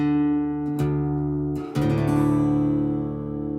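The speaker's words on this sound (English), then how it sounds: "we want to tune down the low E to a D." A plucked guitar string rings, then the low E string is plucked again and again as its pitch slides down, tuning a whole step lower to D.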